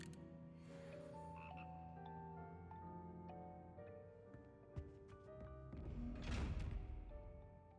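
Frogs croak in the video game Hogwarts Legacy, a few deep, ribbed croaks sounding over a quiet ambient bed, followed by a muffled thump and a louder swelling rustle near the end.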